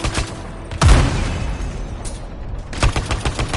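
Valkyries open fire in a video game battle, a loud burst of blasts and booms landing near the one-second mark, then another sharp volley toward the end over a lingering rumble.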